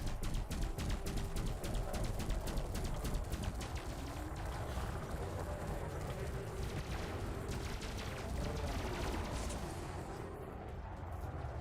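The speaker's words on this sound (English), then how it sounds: "they all just open fire" Massed gunfire from a crowd of enemy ships in the space game Elite Dangerous, a dense, continuous crackle of rapid shots and impacts that stays loud and steady throughout with no talking.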